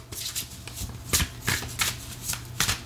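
A deck of oracle cards is shuffled close up, with repeated riffling bursts of flicking cards in a quick irregular rhythm and no speech over it.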